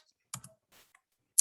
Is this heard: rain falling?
no